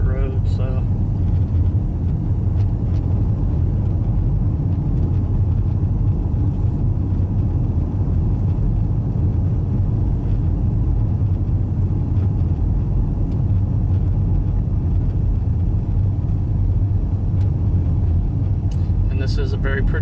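Steady low road rumble and tyre roar from a car cruising on a freshly paved country road in Interlachen, continuous and close throughout, with people talking over it.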